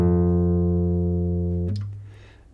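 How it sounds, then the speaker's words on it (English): The note F, played on a guitar's sixth string at the first fret, sustains evenly for under two seconds, then the string is damped and the sound dies away into light fret noise. "To play F, hold down the 6th string on the 1st fret."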